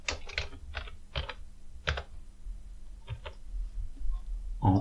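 Keys tapped on a computer keyboard while entering column headings in a home-accounting spreadsheet, in short bursts of several quick clicks with brief pauses, close and fairly quiet.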